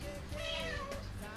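Cleo, a pet cat that had bitten a baby turtle, gives a single short, faint meow in a quiet room.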